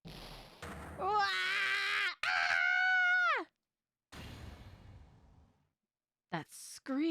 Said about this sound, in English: That scream.